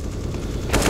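Pistol fire during a Counter-Strike match, a muffled rattle of shots and then a sharper, louder burst near the end, close up with no speech.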